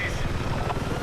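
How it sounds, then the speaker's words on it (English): Helicopter rotor chop in a multiplayer shooter game, a steady low rhythmic thumping under overlapping voices and game noise, close and fairly loud for about a second. "This chopper should be able to help break things up a bit more."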